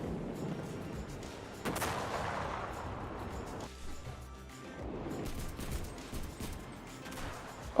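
Gunfire and explosive blasts roar through a combat video game, rough bursts of shots and booming impacts layered continuously at moderate loudness with no voices.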